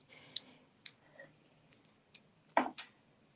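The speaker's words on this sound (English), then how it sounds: "I'm going to go ahead and just peel these off" Adhesive foam dimensionals peeled off their backing while making a handmade card: a string of faint, sharp ticks and small sticky clicks, spaced irregularly, ending in a louder crackling peel close by.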